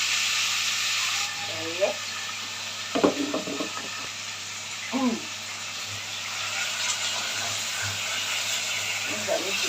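Small pieces of chopped chicken hiss and sizzle steadily in hot frying oil in a home kitchen, with someone speaking Arabic briefly and some clinks of utensils over the constant frying noise.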